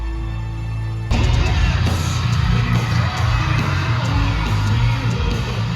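A concert crowd bursts into loud screaming, yelling and whooping as a band teases the start of its set, the roar kicking in suddenly after a quieter murmur and staying dense and close.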